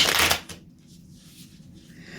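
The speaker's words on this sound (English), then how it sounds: "let's do a reversal shuffle, shall we?" A deck of tarot cards is riffled quickly in a short, crisp burst of shuffling close by, then settles into quiet handling.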